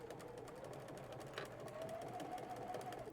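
A sewing machine stitches steadily through the layers of a heart-shaped zipper pouch, a continuous close mechanical whir with a faint rising whine toward the end.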